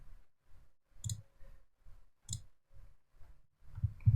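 A computer mouse being right-clicked while working in a WordPress blog dashboard: a few sharp, close clicks spaced about a second apart, over quiet low background thumps.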